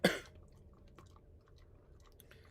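A pet named Quill chewing treats, soft wet smacking and crunching close up after one louder opening burst, quiet and steady with no talking.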